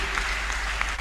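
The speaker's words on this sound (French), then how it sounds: "Clap, clap, clap better for Jesus Christ." A crowd at a church gathering claps steadily together, a dense, loud wash of applause filling the whole moment without pause.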